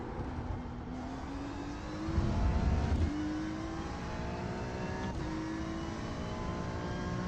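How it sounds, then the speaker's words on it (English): Race car engine whining steadily on track through upshifts, with a heavier burst of rumble partway through as a faster car draws near. "Faster car approaching."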